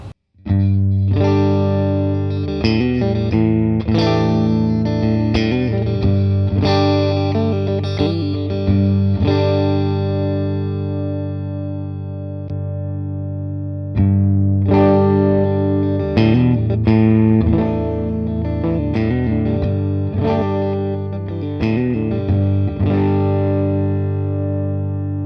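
Fender Stratocaster electric guitar on its middle and neck pickups, played through a driven amp: loud, sustained distorted chords and riffs with a thick low end, ringing out continuously with brief pauses and no voices.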